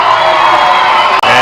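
Baseball crowd cheering loudly and steadily at a New Britain Bees home game as fans rise to their feet, with whoops and shouts in a dense roar broken by one brief dip.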